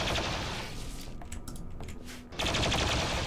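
Gunfire in the colony-building game Rimworld during a winter Ironman run rattles in rapid automatic bursts, dropping off briefly to scattered shots before a loud continuous burst resumes.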